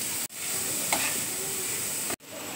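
Paneer stuffing with capsicum, kasuri methi and ground spices frying in a pan, a steady loud sizzle with stirring scrapes and a short clatter partway through, framed by two abrupt cuts.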